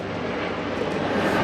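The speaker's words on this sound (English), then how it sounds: "there's a helicopter flying overhead" A helicopter passes overhead outdoors, a steady rumbling engine and rotor drone filling the short moment with no voices.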